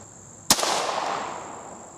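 A single sharp rifle shot firing a Remington Golden Bullet round cracks out loud and close, followed by a long decaying outdoor echo.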